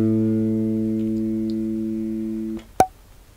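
A single G sharp rings out on the G string of a bass guitar, a clean sustained tone fading over about two and a half seconds before a sharp click ends it.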